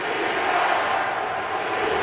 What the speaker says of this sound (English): Stadium crowd chanting defense on second down and 9 at the 16